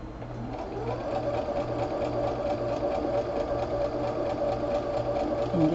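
A sewing machine runs steadily as two straight fabric crumb pieces are stitched together for a crumb square, a continuous close mechanical whir and hum with no talk over it.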